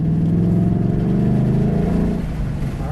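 Ford Mustang Dark Horse engine droning steadily at high revs on a race track on Yokohama A052 tires, a loud, continuous note that eases off slightly near the end.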